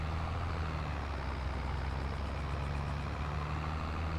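Steady, continuous low engine rumble of a tractor idling in Farming Simulator 22, loud and unchanging throughout with no talk over it.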